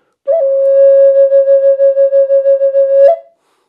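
A Native American flute sustains a single clear, steady tone with a pulsing vibrato for about three seconds, then the note stops abruptly with a slight breathy flick, played solo.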